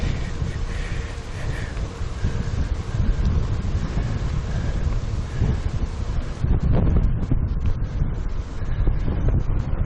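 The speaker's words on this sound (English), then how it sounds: "wind. Big wind." Strong wind roaring across the microphone during an outdoor bike ride near Lake Norman, North Carolina, a loud, steady gusty rumble filling the whole stretch with no pause.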